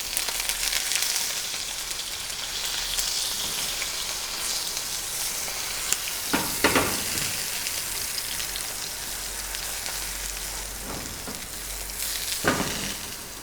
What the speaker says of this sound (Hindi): इसी तरीके से हम बाकी के बैंगन भी ब्राउन कर लेंगे।